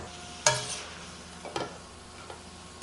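Cabbage stir-fries in oil in a pan, a soft steady sizzle broken by a few sharp clinks and scrapes of a utensil against the pan, with no voices.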